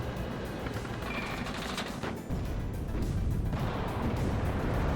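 Dense, continuous bursts of gunfire and artillery from the video game WARNO, loud and close, with rapid overlapping cracks that dip briefly around the middle and then return even heavier.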